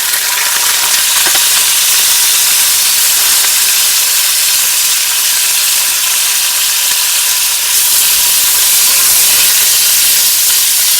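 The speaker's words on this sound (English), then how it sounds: "So, bit of oil, and we'll chuck the steak in." Steak frying in oil in a pan on a camp stove in a warm shelter during a kayaking trip in Oban, Scotland: steady, close, loud sizzling hiss running unbroken throughout, with a brief brighter burst of spitting near the end.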